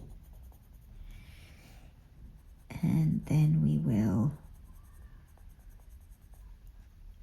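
A colored pencil in Caput Mortuum Violet scratches steadily across paper as another layer goes down, a soft continuous scraping that carries through the whole passage, briefly covered by a speaking voice in the middle.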